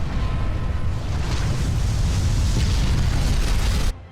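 A missile launch explosion rendered as a sustained, loud, deep roaring rumble with broad crackling noise that holds steady for about four seconds and then cuts off abruptly.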